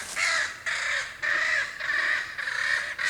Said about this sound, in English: Crows are mad.